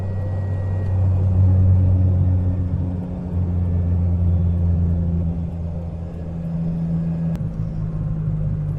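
A 1985 Suzuki Mighty Boy drives along a road, its small engine giving a low, steady rumble with gentle swells, and a single short click near the end.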